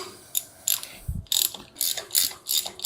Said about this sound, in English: See, it just snapped on right there. You heard it snap.